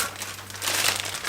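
Plastic packaging crinkles and rustles steadily at close range as EKOI France Limited Edition cycling bib shorts are unwrapped, a continuous soft crackle with no voices.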